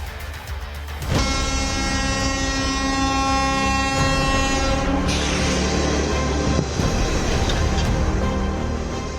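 An electric train moves past in a continuous loud, dense rumble. A long sustained horn-like tone rises over it partway through, with no voices.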